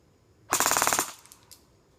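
An airsoft gun firing a rapid burst of about a dozen sharp, evenly spaced shots in half a second, close and loud, followed by a faint click and quiet.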